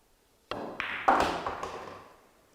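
A pool cue strikes the cue ball in a billiards kick shot, followed by sharp clacks of balls colliding and a thud off the cushion, with the knocks spaced over a second or so.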